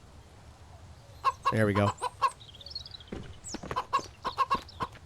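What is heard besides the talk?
chicken clucking in the video game Mist Survival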